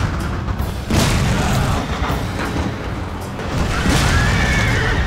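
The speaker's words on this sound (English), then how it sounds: "You actually follow the cannonball along the battlefield until it actually hits its target." A cannon firing in Total War Shogun 2, a loud boom followed by a sustained rumble and a second impact crash as the cannonball strikes its target on the battlefield.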